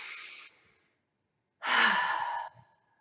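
Two deep exhalations during a yoga breathing exercise, one short and one longer, close and soft with a quiet gap between them and no talk.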